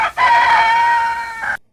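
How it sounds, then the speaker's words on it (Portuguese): A rooster crows once, loud and close, a single long drawn-out call that rises, holds steady and then trails off with a brief final flourish before abrupt silence. "o galo cantou pela segunda vez"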